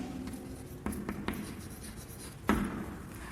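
Pen on paper in an account book: soft scratchy strokes with a few sharper taps, close and quiet, no voices.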